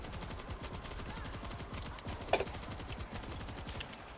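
Machine gun fire in World War Z rattles as a faint, rapid, evenly spaced burst of shots with one sharper crack in the middle, low in level throughout.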